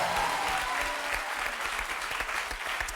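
A TV game show studio audience for Attention à la marche applauds loudly and steadily from start to finish, a dense wash of clapping with no pauses.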